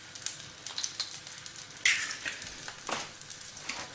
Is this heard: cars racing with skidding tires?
no